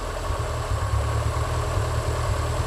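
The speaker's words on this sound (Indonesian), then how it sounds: "Sudah jelas mesin pincang." A car engine with incomplete fuel combustion idles roughly in a close, steady, low rumble. A faint uneven pulse suggests misfiring, and there is no talk over it.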